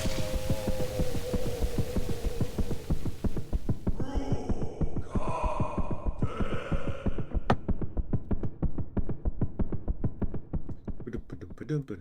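A deep rhythmic heartbeat thump pulses steadily and loudly in Silksong, a fast throbbing beat running the whole time with a brief tonal swell midway and talk faintly mixed in.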